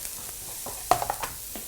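Garlic and ginger hitting a hot stir-fry pan give a soft, brief sizzle with a few sharp crackles and stirring clatters near the middle, fairly quiet and without talk.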